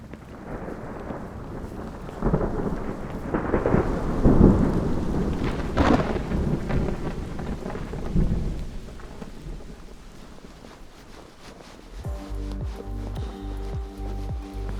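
A thunderstorm with rain during a fishing session, heavy low thunder rumbling and rolling for several seconds over steady rainfall, then a quieter stretch of rain with a tonal hum and rhythmic knocking near the end.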